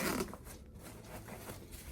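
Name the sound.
zipper opening the top compartment of a range backpack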